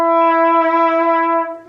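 A single sustained F sharp played on a band instrument during a lesson, a steady, clear, loud tone held for under two seconds before tapering off.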